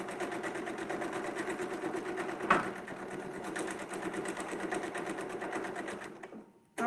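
A sewing machine stitching a quilt runs at a steady fast whir with a rapid even chatter, close and moderately loud. It stops abruptly near the end, and no one speaks.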